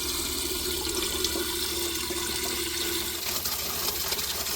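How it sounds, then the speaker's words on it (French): Water running from a small shower head into a camper van tank, a steady hiss of flowing water with a low hum underneath, continuous throughout. "je vais pouvoir remplir avec ma petite douchette"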